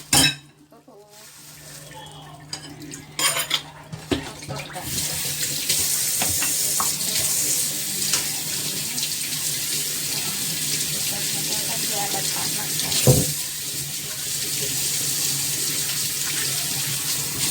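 Tap water runs steadily from a kitchen faucet into a sink while freshly cut lotus root is rinsed for a Chinese-style dish, a continuous close hiss with a few soft clinks and brief handling knocks near the start.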